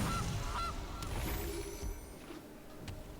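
Honking goose call from the Golden Goose card in the MTG Arena video game, a few short honks over a dense, busy game-sound backdrop.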